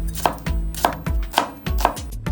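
A knife chops an onion into small pieces on a cutting board for a spicy seafood pot, landing about five close, steady strokes at an even rhythm with no voices.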